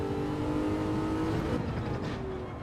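A race car in Gran Turismo 7 accelerates with a steady, rising engine drone and faint harmonic whine, loud and continuous, with no voices.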